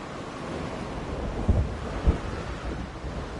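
Thunderstorm in the game Jurassic World Evolution 2, a steady roar of wind and rain with two low thunder rumbles about half a second apart, no voices.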